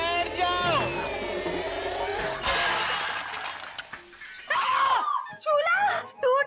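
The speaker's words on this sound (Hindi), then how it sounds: "चूल्हा टूट गया।" A clay chulha stove breaks with a sharp, loud shattering crash in the middle, set among excited voices and shouting before and after the impact.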